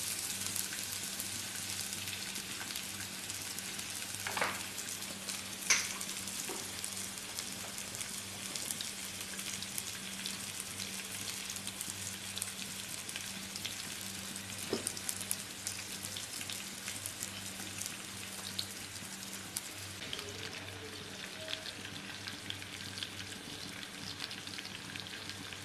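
Squid roasting Kerala style, frying slowly in a little oil in a pan, gives a soft, continuous sizzle and crackle with a few faint clicks, steady and somewhat distant, with no talk.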